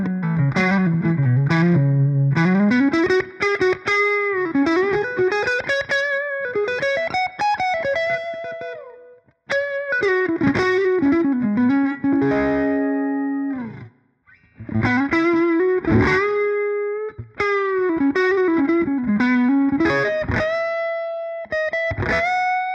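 An electric guitar played through overdrive pedals, a BD-2 Blues Driver and a Blues Breaker, producing warm distorted melodic lines and sustained notes with occasional short pauses, loud and continuous with no talking.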